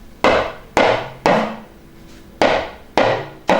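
Talking drum struck in a rising and falling do-re-mi pattern: six sharp, resonant wooden-sounding hits in uneven spacing, each ringing briefly with a bending pitch, close and loud with no voices.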